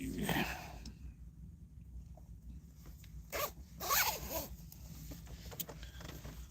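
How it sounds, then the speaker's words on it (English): Jacket zipper zipped up outdoors during a walk, a few rasping zip strokes at the start and again around the middle, close and clear against light wind. "Maybe I should zip my jacket up first before I put my gloves on."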